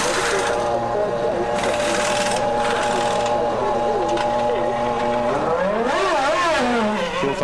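Formula 1 race cars of 1998 in the pit lane at Luxembourg, their engines whining loudly and shifting pitch as one revs up near the end, with a commentator talking over them.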